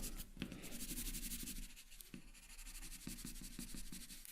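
Pencil shading dark areas of a hand drawing on paper, pressing a little harder, a steady close scratchy rubbing with quick repeated strokes, faint and continuous with no talking.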